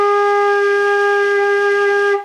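A single sustained flute note G, played by a beginner fingering B, A, G with the third finger down, rings clean and steady for about two seconds, close and fairly loud, then cuts off.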